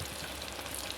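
Oil poured over cooking dough gives a dense, steady sizzle and crackle, close and continuous, with no talking.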